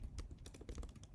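Quick bursts of keystrokes on a computer keyboard during coding work, close and quiet, with uneven clicking clusters and no voices.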